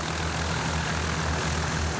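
A light propeller plane carrying children on pleasure flights drones steadily, a continuous engine roar with a low propeller hum, loud and unbroken throughout.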